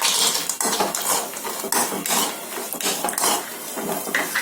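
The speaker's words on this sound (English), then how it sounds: "Now I'll add in the kaju." Cashews (kaju) tumble into a metal pan for ghee rice, giving a dense, continuous clatter of nuts and utensil against the pan, fairly loud and close, with no talking.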